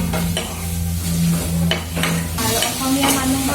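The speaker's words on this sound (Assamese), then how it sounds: "এতিয়া মই এইখিনি অলপ ছটিয়াই ভালকৈ লৰাই দিওঁ" Spices and coriander sizzle in a hot pan for an Assamese traditional dish while a spoon stirs them, giving a steady close frying hiss with intermittent scraping strokes and no talk.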